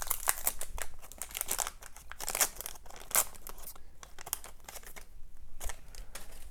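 A 1986 Fleer baseball card pack is ripped and crinkled open in sharp, close bursts of foil tearing and crumpling, with brief pauses between the tugs.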